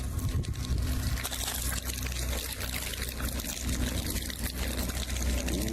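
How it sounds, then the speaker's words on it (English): A man pours a steady stream of water from his mouth, a continuous splashing pour with trickling and gurgling that runs loud and close throughout, with faint voices in the background. "The man begins pouring a steady stream of water from his mouth."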